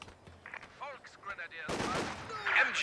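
Machine gun fire in the strategy game Company of Heroes 2, a sustained rattling burst erupting partway through and continuing to the end, preceded by softer in-game effects, with commentators talking over it.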